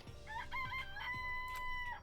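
Chickens crow and cluck in the video game Danganronpa, a sustained rooster crow rising and holding over a layer of game music, fairly close and clear with no talking.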